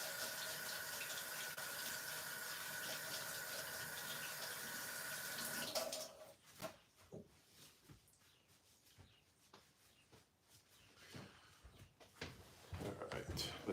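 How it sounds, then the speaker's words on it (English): A kitchen tap runs steadily while hands are washed beneath it, a loud continuous stream of water that cuts off abruptly midway, followed by quieter clinks and handling noises nearby. "Washing my hands again so I can get that situated."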